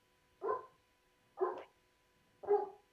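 A dog gives three separate barks about a second apart, each short and fairly close, with quiet in between.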